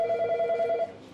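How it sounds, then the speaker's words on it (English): Telephone ringing on a ship's bridge, a steady electronic warble that rings on for most of a second before cutting off, close and fairly loud, with no talk over it. "the phone rang"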